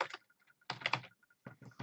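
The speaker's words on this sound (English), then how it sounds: "we type in rock" Quick keystrokes tap on a computer keyboard in short clustered bursts separated by brief pauses, close and fairly quiet.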